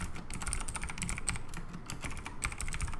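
Quick continuous typing on a computer keyboard, dense close clicks in an uneven rhythm with no pauses, entering commands at a workstation.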